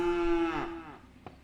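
A cow in a video game lets out a single loud, close, drawn-out moo that rises then falls away, followed by a brief soft click, with no talking.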